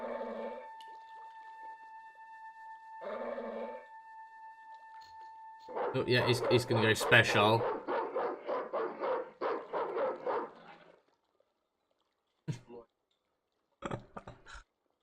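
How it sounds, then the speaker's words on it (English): Dog in the video game Broken Sword barking in a loud, rapid frenzied burst after a voice speaks over game music, followed by silence and a few short yips. "The dog went berserk for no apparent reason."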